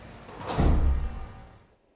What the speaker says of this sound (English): Door unlocked.